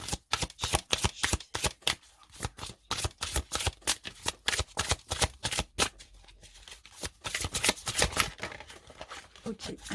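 Tarot cards are shuffled close up in a quick, irregular series of papery riffles and slaps, fairly quiet, with no one speaking.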